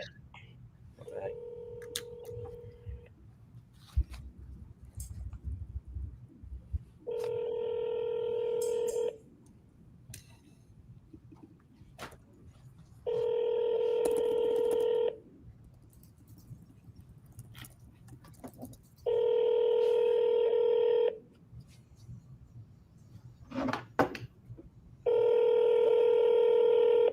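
Cell phone keypad dialing tones sound in several sustained beeping bursts of a few seconds each, separated by quiet gaps with faint room noise and brief voices between them.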